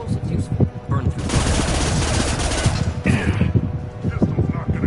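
Sustained gunfire from a Mass Effect 2 firefight, dense rapid bursts with weapon shots layered over explosions and combat noise, while voices call out in between.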